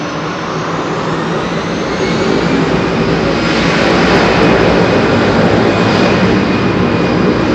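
A loud aircraft engine roars steadily at Heathrow Airport, a broad continuous jet rumble that swells slightly as it goes on, close and unbroken, with no voices.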